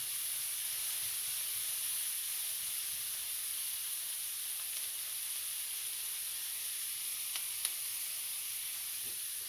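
A whole onion frying in a pot with a little salt gives a steady, even sizzle and hiss that stays close and constant throughout, with a couple of faint clicks near the end and no voices.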